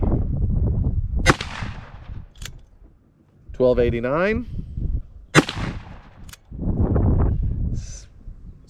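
Two sharp, loud cracks from a Ruger Blackhawk .357 Magnum revolver ring out several seconds apart, each with a short decaying tail, while someone talks between and around the shots.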